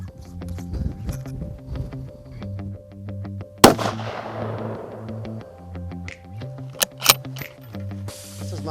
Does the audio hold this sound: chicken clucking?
no